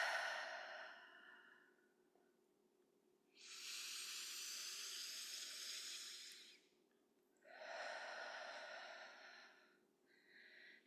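Repeated breathing during a guided breathwork session: a fading breath, then two long, airy exhales a few seconds each with short pauses between, and a brief start of another, close and quiet with no talking.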